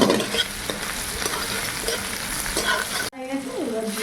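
Ginger frying in hot oil with turmeric already added, a dense, loud, continuous sizzle with stirring scrapes, close up, cut off abruptly near the end.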